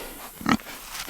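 One of three black pigs on a farm lets out a single short grunt, close and fairly loud, with a fainter snort trailing shortly after against a quiet outdoor background.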